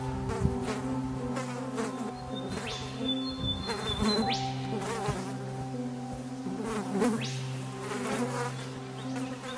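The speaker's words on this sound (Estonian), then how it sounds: "Need konnad on." Pleurodema frogs call in buzzy, insect-like trills, several overlapping, with repeated rising bursts over a steady droning chorus, fairly close.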